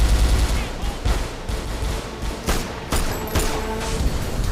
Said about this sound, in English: Here's a cutscene where Faith kills everyone with a gun